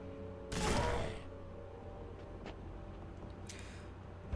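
Scatter gun blast against an enemy in the game Mutant Year Zero: one loud, broad burst near the start, then faint mechanical clicks and a weaker second crack toward the end.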